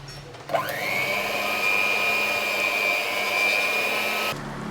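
An electric hand mixer whirs steadily as it beats butter, a sharp motor whine starting abruptly, holding level for several seconds up close, then cutting off.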